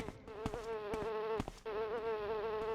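Bee buzzing in the video game Morrowind, a steady droning hum that briefly cuts out and resumes, close and fairly quiet, with a few soft clicks over it.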